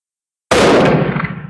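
A single loud, close rifle shot fire-forming .348 Winchester brass into 8x56R Kropatschek cases, a sharp crack followed by a short decaying echo.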